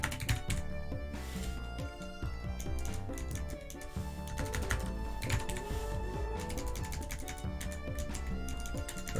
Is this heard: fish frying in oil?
no